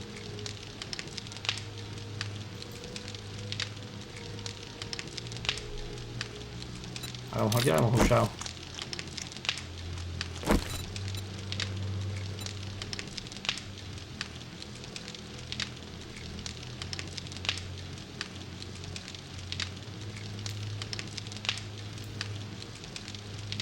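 A campfire in a video game crackles and hisses steadily throughout, with a brief louder burst of crackling near the middle, while people talk over it.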